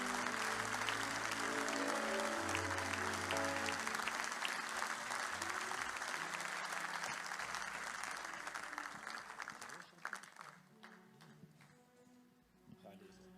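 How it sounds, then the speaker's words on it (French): Church congregation applauding to acclaim the Lord, dense sustained clapping from a crowd that fades out toward the end, with a voice speaking over it. "Est-ce qu'on peut acclamer le Seigneur?"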